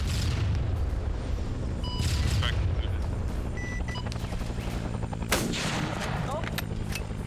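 Gunfire in a Vietnam-era shooter game, with heavy booming shots and bursts of rapid fire layered over constant battle noise, loud and close, including a sharp crack near the end.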